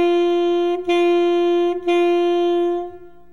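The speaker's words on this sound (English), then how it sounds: "On the note D, it will sound like this." An alto saxophone plays the note D three times, each a steady held tone with a short break between. The last note fades out, the horn close and clear.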